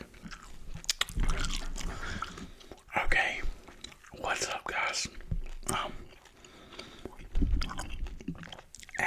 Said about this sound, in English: we're gonna chew some gum and just talk